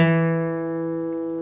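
One note plucked on the 2nd fret of the D string of a guitar sounds alone, close and clean, sustaining and fading gently after the attack.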